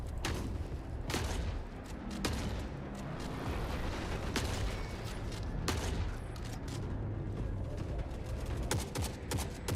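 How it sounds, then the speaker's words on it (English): Shotgun fire in the video game Forever Winter, heavy booming blasts repeating over a dense, continuous roar of battle noise and explosions, loud and close throughout. "Oh god, a shotgun!"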